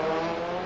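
A Renault 21 production race car races around the Alcañiz circuit, its engine giving a loud, steady tonal drone in a brief burst.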